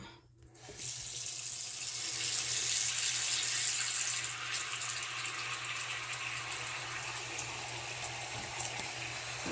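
Tap water rushes steadily into and drains from a household sink, a loud continuous broadband splash and gurgle after a brief quiet start, with a low steady hum underneath.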